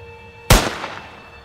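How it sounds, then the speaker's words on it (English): A single sharp rifle shot fired near and loud, followed by a short fading echo that rings out over about a second in otherwise quiet surroundings. "He brings his rifle up and takes a shot."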